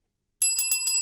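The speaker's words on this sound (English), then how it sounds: "Yet you still rang the bell." A bicycle-style bell rings in quick repeated dings, bright and close, starting abruptly after a moment of silence.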